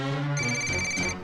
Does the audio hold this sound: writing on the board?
no